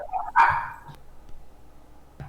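A short, loud, dog-like bark from a bee queen character, followed by quieter faint clicks, heard alone without talk.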